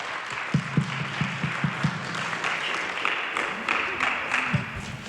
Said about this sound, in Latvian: Vēlreiz aplausī!